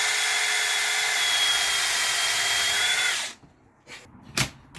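Power screwdriver bit driving a screw while fixing a wonky tap on a boat: a steady, loud whirring drive for about three seconds, then stopping, followed by a few short scrapes and knocks.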